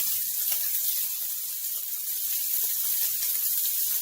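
Shrimp pasta cooking in a pan gives off a steady, continuous sizzle with a watery hiss, holding an even loudness and heard close up with no voices.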